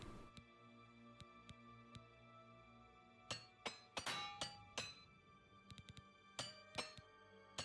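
Repair hammer in the game Oblivion Remastered striking armor: a series of sharp metallic clinks and taps, some single, some in quick clusters, over a faint steady game background hum.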